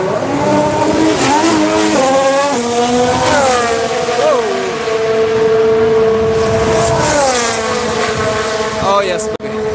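A race car engine at a circuit near Barcelona fires up and revs, its pitch sweeping repeatedly up and down as the car gets moving on track, loud and close, with people talking over it.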